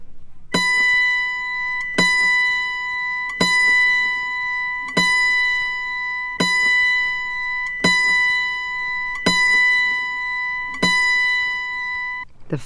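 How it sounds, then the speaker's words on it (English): Autoharp B string, the string next to the highest, plucked nine times at a steady pace; each bright, ringing note sustains and decays before the next, alone with no talk. "Now, tune the B, the string next to the highest string."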